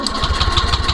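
The starter of a Honda Beat ESP motorcycle with a fuel-injector problem cranks the engine in a rapid, rhythmic whirring pulse. The sound is close and loud, with no speech.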